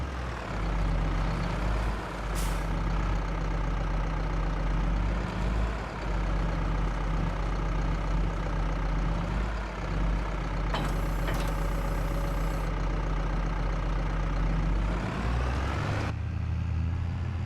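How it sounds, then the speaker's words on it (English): Big tractor engine in Alpine Lake rumbling steadily at night, a loud close low drone with a hissing air-brake-like burst midway and a shift in tone near the end, no voices. "We got a great big tractor rocking through the night"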